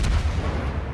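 A World of Warships warship fires its guns in a single deep, rumbling boom that stays loud and fills the whole short moment without any voices.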